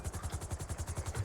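A helicopter in the video game GTA flies with a steady, rapid rotor chop pulsing evenly throughout, fairly loud and alone.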